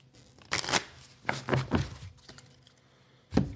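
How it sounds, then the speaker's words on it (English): Cards for the Earthborne Rangers board game shuffled by hand the old-fashioned way, a few quick close riffling bursts separated by short pauses, with no talking. "I'm going to drive some viewers crazy by shuffling these real quick."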